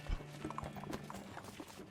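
Horse hooves clip-clop softly in a video game, West of Loathing: a few light, irregular thuds over a quiet low hum, with no clear whinny.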